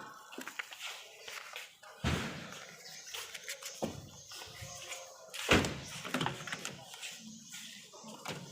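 A rear left car door is opened and shut during an electrical inspection of a power window system, giving several separate thunks and clunks with handling noise between them. A voice is faintly audible in the background.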